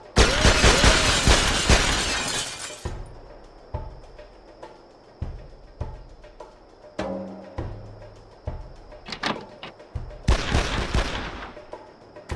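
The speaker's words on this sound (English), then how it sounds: "Shoot the glass out," In the Made Man video game, a glass window bursts into a loud crashing shatter, followed by a string of sharp, evenly spaced gunshots and a second crash of breaking glass near the end.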